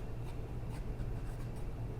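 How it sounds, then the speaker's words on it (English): A pencil sketches light lines on paper, producing soft, close scratchy strokes in a loose rhythm of short sweeps over a quiet background, with no talking. "just really light pencil lines, roughing this letter in"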